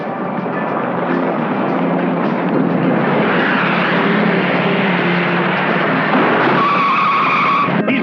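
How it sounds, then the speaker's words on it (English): A cartoon truck speeding past, a loud sustained engine roar with screeching tire skid, continuous for several seconds and heard alone. "this truck speeds right past them"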